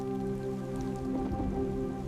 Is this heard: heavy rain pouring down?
yes